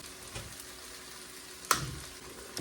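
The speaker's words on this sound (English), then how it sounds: "And now we're gonna add the garlic." Garlic going into a hot pan of wilted spinach, a soft steady sizzle with a sharper splash and crackle as it hits midway, then the frying settles back, no talk.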